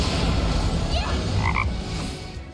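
A frog croaks during a Final Fantasy battle transformation, a short croaking call rising over a dense, loud game soundscape of rumble and effects.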